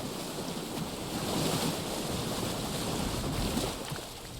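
Lake water washing and lapping in Alan Wake 2 around flooded lakeside ground, a steady broadband wash of surf rising and falling with wind-like hiss, no talking.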